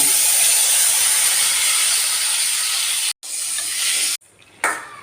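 Tomatoes drop into hot sesame oil with mustard seeds and asafoetida and sizzle loudly in a close, steady hiss. It cuts off abruptly twice near the end, then briefly returns.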